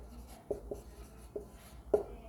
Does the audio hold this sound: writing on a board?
yes